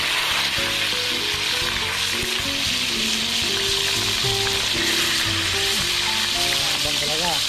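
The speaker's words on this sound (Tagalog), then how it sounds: "Kulo-kulo na ang mantika." Fish frying in boiling oil while cooking outdoors after a catch: a loud, steady, dense sizzle that runs throughout, with tonal voices or music underneath.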